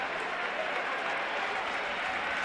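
A crowd in a basketball arena during a EuroLeague Women game between Perfumerias Avenida and Spar Girona roars steadily, a dense, even wash of cheering and clapping with no breaks.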